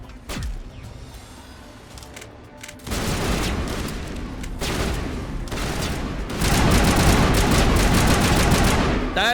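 Rapid automatic weapon gunfire in the Mass Effect video game, sparse shots at first, then dense sustained bursts that grow louder and more continuous.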